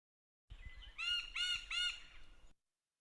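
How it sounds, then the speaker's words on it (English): A rufous woodpecker gives a danger call: a short series of about three loud, harsh, nasal calls in quick succession, close and clear against quiet surroundings, with no talking. "But this is the danger call, but of the woodpecker and the rufous woodpecker"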